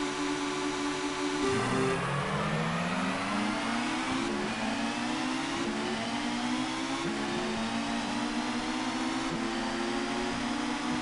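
Touring cars launching off the grid at a race start in the video game Toca 2, engines revving hard and climbing through repeated upshifts in a loud, continuous drone.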